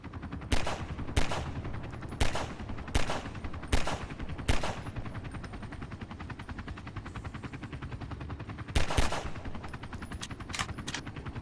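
Repeated gunshots in a video game, loud sharp single reports spaced about a second apart, then a pause over a steady rumbling background before a few more quick shots near the end; no one speaks.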